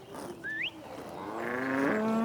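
Dairy cows on a farm low and moo as the herd moves along, one rising call followed by longer, louder drawn-out bellows, fairly close with no talk.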